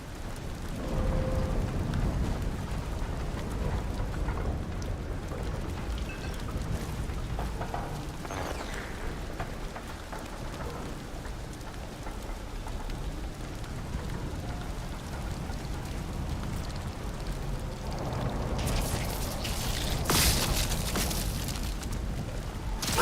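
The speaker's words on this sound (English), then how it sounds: "see, this is the storm and everything." A storm in the video game Atomfall pours a steady, dense hiss of rain with low rumbling thunder beneath it, brightening into a louder crackling surge near the end, with no talk.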